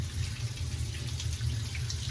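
Cold water running from a tap in a barn: a steady, even rush of flowing water at close range, alone and without talk.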